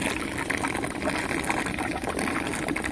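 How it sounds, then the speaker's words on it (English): Water gushing steadily over a table in a continuous, loud, broadband wash that holds for about three seconds without pause or speech. "Let me give this a wash."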